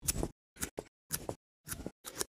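Knife shaving a grafting scion thin for a cleft graft: six short, rhythmic scraping cuts close up, separated by brief silences.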